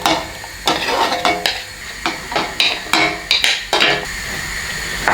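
Bell peppers hit a pan of hot olive oil for ratatouille, giving a steady sizzle broken by repeated sharp scrapes and clacks of stirring against the pan, close and fairly loud, with no voices.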